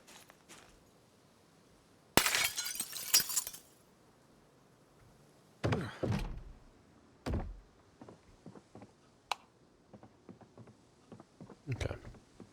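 A window pane being cleared of glass in Project Zomboid, with a sharp burst of shattering and tinkling shards followed by scattered thuds and clatters, fairly close and without talk.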